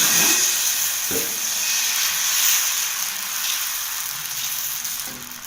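Carrot dosa batter frying on a hot griddle gives a steady, close sizzle and hiss with a few faint soft scrapes or stirs underneath, and no talk.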